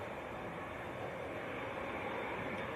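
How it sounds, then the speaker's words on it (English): Virgin Airbus A330 airliner taxiing at Manchester Airport, a faint, steady, distant jet engine rumble and whine holding constant with no voices. "Another heavy coming out as well. We've got a Virgin A330 taxiing out."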